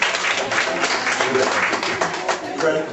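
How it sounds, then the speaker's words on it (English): Audience cheering and clapping at a talk, a dense, steady wash of applause and shouts from a crowd, fairly loud and sustained throughout. "I can't get a cheer from the females?"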